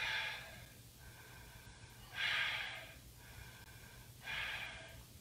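Deep breathing during seated chair yoga: three slow, airy inhale-exhale cycles about two seconds apart, soft and close, over a faint steady hum.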